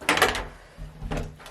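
An empty rented flat in London, where a storage cupboard by the front entrance is opened, giving a short thud and rattle, a pause, then a second knock and scrape, fairly close with no talking.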